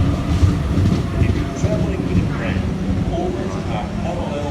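A Sydney A set train pulling into platform 1 at Parramatta station on an Olympic Park service, a loud rumbling roll with low clatter and rushing air, steady throughout.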